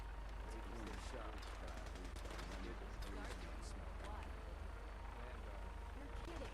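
Rapid gunfire in Fallout 4, a dense spray of shots crackling continuously over a steady rumbling background, with game voices talking underneath.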